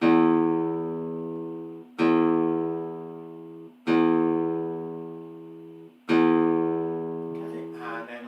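A guitar's open low E string is plucked four times at even intervals, each note ringing out and slowly decaying, close and clear.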